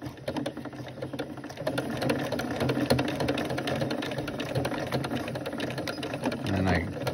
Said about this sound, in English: I always start with a straight stitch just so I can get everything in the center stitched together.